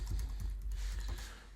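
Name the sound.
typing a password on a computer keyboard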